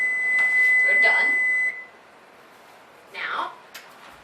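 A kitchen timer beeps with a steady high tone for about a second and a half, then stops. Brief noises follow in a quiet room.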